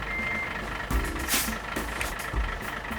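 Truck reversing beeps, a steady repeating warning tone over the rumble of an idling engine, with a few brief hiss bursts like air brakes.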